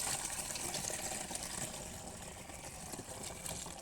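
A litre of water is poured into a sprayer tank in a faint, steady splashing trickle that runs continuously, close and alone.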